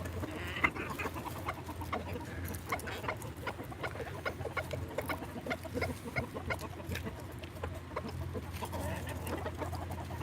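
A hen named Pinky clucks softly and steadily while pecking at pink feed, with other chickens nearby, the repeated short clucks and pecking taps running continuously over a low background hum.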